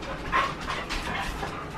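An indoor pet dog named Louie panting under a desk, a soft, rapid breathy rhythm with a faint whimper, close by and continuous.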